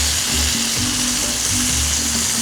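Fish tofu frying in very hot oil in a steel pan gives a loud, steady, dense sizzle with a low background hum underneath.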